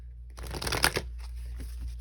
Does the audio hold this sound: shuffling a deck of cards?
yes